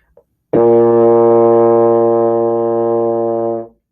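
A single low B flat on a baritone horn, blown loud and steady for about three seconds, rich and buzzy, then cut off, after a short breath.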